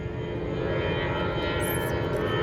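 An airplane flies overhead, a loud, steady engine roar that fills the space with broadband rumble and holds at an even level throughout, with no talk over it.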